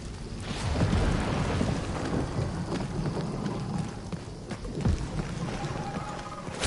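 Heavy rain pours steadily in a Guardians of the Galaxy video game storm, with deep rolling thunder rumbling through a dense, continuous wash of downpour, loud and close, with no talking.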